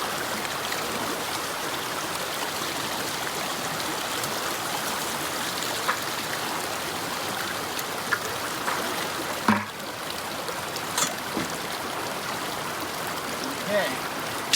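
Water rushes steadily through a Keene A52S Super Sluice in a continuous broad wash that runs the whole time, with occasional splashes and faint voices nearby.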